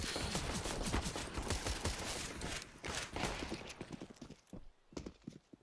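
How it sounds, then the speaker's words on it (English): Rapid bursts of rifle and automatic gunfire in a Counter-Strike esports match, dense cracking volleys overlapping throughout, then thinning into scattered shots near the end. "Everybody just beating their chest, firing bullets at each other, but not into each other."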